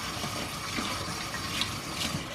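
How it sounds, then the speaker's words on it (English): Tap water runs steadily into a sink for hand washing, a continuous close splashing hiss with no talking. "Go wash your hands"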